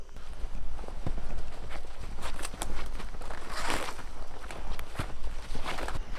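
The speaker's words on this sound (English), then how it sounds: "I'm dragging this one back." A shot feral boar hog is dragged back through brush. Steady, close footsteps crunch and rustle in a walking rhythm, mixed with scraping drag noise through dry vegetation.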